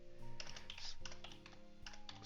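Computer keyboard typing during a GearCity car-company management game, quick clustered key clicks over a steady game music bed, close and continuous.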